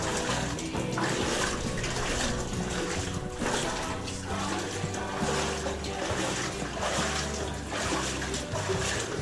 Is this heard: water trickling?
yes